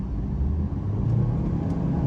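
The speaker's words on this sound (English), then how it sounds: "driving the MG1, let me show you a bit of acceleration first" An MG One car accelerating on the road, a low engine rumble building steadily with tyre and road noise, close and continuous, no talking.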